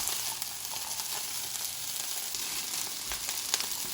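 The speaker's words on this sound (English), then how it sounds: "Because my carrots are raw, I'm going to add them next. Let them cook just a couple minutes." Raw carrots for fried rice sizzle steadily in a hot pan, giving a bright, even crackle with occasional pops. It is close and continuous with no voices.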